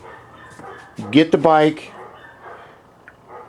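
Several dogs barking loudly in a quick burst of sharp yelps near the middle, close by, with someone speaking before and after.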